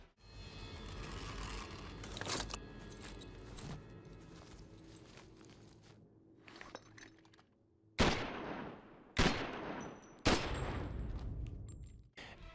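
Gunfire in the final mission of Call of Duty 4, a video game: a dense stretch of game audio with scattered shots gives way to three loud, sharp bursts of fire late on, each sounding close and ringing out alone.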